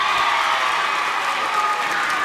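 A packed arena crowd at a men's college gymnastics meet claps and cheers in a steady, dense roar of applause with no break.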